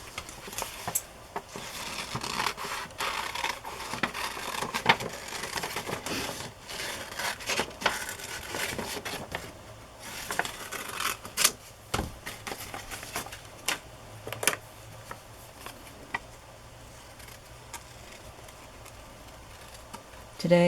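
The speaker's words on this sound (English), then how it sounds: "But I'm going to cut it apart." Scissors snip through paper while cutting pieces apart for a collage, a close run of crisp, irregular clicks and rustles that thins out near the end.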